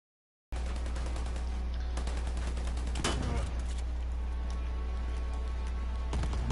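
Rapid video game shooter gunfire crackles in dense bursts, with one sharper shot standing out midway, steady and fairly loud throughout.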